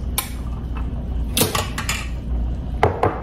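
Hot boiled peanuts are served into a dish with a utensil, making a handful of crisp clinks and clatters at irregular intervals, close and fairly loud, with no talking.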